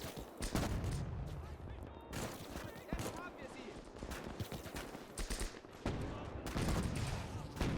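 Infantry gunfire in the World War II game Call to Arms: Gates of Hell, dense volleys and bursts of rifle and machine-gun fire crackling steadily through a battle, with talk over the top.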